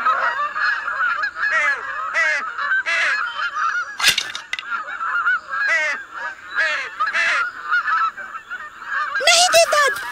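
A swan in an animated Buddha legend film gives repeated loud honking calls in uneven bursts, close and prominent, broken by a sharp thud and brief pauses between calls.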